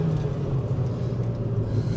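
Ford Fiesta ST hot hatch pulling hard on an open road at the national speed limit, a steady low engine drone and road rumble heard from inside the cabin, with no talking.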